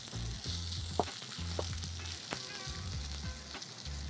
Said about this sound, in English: I just want a little bit of oil in a hot pan, and then you just kind of pile up a few spoonfuls in the middle there